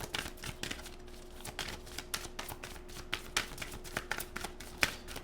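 Tarot cards shuffled and drawn from a deck during a Scorpio reading, a run of quick papery riffles and soft clicks close up, with no talking.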